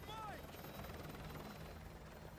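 Helicopter rotor thrum from the Call of Duty: Modern Warfare 2 campaign, a steady loud drone that fills the whole moment, with a brief rising whine at the start and game voices faintly underneath.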